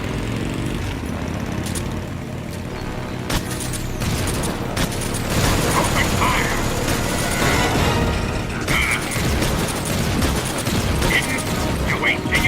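Gunfire in Metal Gear Solid 3: Snake Eater, scattered shots and bursts over a dense rumbling battle backdrop, steady and loud, with voices occasionally in the mix.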